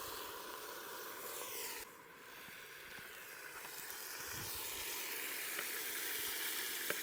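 White wine sizzling in hot olive oil in a camp pan over a campfire, a steady close hiss and crackle that dips briefly then holds loud and even throughout.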